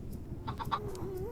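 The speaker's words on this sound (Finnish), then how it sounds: "Kana oikeasti spawnas tänne." A Minecraft chicken clucking in the Nether, a few short, close clucks over low game background noise.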